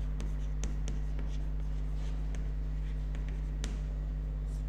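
A pen scratches across paper in an accountancy class, a string of short, soft writing strokes in irregular rhythm over a constant low electrical hum.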